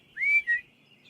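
At night in the heather, a man gives a signal whistle: two short, clear, piercing notes, the first sliding upward and held, the second slightly lower, set against quiet darkness.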